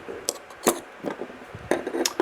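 A CRKT Homefront knife is taken apart, its metal parts giving sharp, separate clicks and clinks at uneven intervals, close and fairly loud, over a quiet background with no talking.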